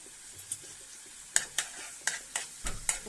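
Garlic frying in a pan for garlic pasta, a low steady sizzle punctuated by several sharp stirring scrapes and clinks of a utensil against the pan, close and moderately loud.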